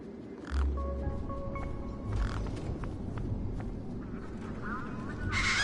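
Large birds in the video game Beyond a Steel Sky give honking, goose-like calls over a steady ambient rumble, with a few separate calls spread across the stretch and no talking.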